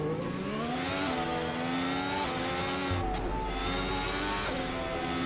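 Racing game F1 car at Vallelunga in Italy, engine whining loud and steady with shifting pitch as it revs and spins out, a short thump partway through.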